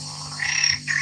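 A frog croaks from a video played back on a device, two short rasping calls over a steady low hum, moderately loud and close.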